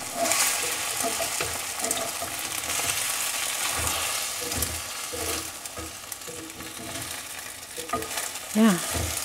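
Eggs being scrambled in a Lodge pre-seasoned cast iron pan, a steady soft sizzle with scraping strokes running throughout, close and unbroken by talk.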